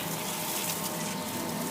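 Steady broadband rush of water poured from a hose or can onto pea plants in a garden bed of organic mushroom soil, continuous and fairly close with no talking.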